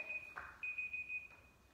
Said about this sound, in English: that's the timer